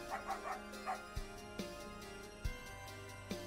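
Short yipping dog barks from a pixel RPG Maker game, a handful of quick separate yaps over a steady game music loop, fairly soft and moderately close.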